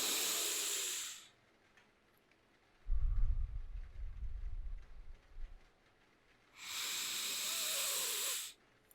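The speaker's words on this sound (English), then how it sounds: "inhale for 3 seconds. Exhale for 5 seconds." Slow, deliberate breathing, a long hissing breath near the start, a deep rumbling exhale in the middle, then another drawn-out airy breath toward the end, close to the microphone with quiet gaps between.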